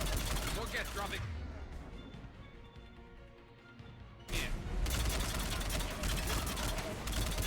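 Gunfire in the Mass Effect 3 video game, dense loud bursts of shots, then a quieter lull before heavy rapid firing resumes, with voices talking amid the combat.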